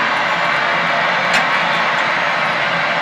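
A light aircraft's engines drone loudly and steadily in the cabin, a dense unbroken roar that holds level throughout with no speech over it.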